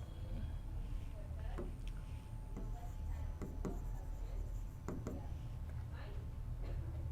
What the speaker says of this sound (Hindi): चलो लेट करके लिखता हूँ